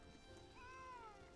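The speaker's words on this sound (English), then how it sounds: "Cat, you shut the hell up." A house cat lets out a single faint, drawn-out meow that rises and then falls, heard quietly in a room behind a low background hum, with no talking during it.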